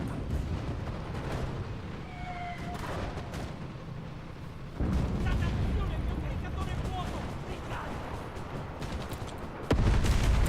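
Artillery barrage in the WWII shooter Enlisted, a dense rumble of booms and gunfire rolling on for the whole stretch, growing heavier near the end, with shouted voices and chatter over it.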